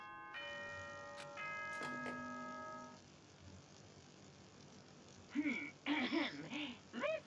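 Announcement chime from the video game Danganronpa: a few clear bell-like tones ring out and decay over a faint background, followed by a voice talking in a game scene.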